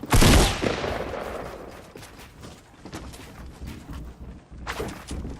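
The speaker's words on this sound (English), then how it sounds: "I'm getting shot from so many sides" Heavy gunfire in a battle royale shooter, a loud burst up front, then scattered shots and bursts coming from several directions at varying distances.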